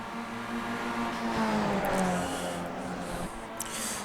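Race cars circling Summit Point in the iRacing sim, Skip Barber open-wheel cars, a steady engine drone with harmonic whine shifting pitch as they run nose to tail, continuous and fairly loud with no talking.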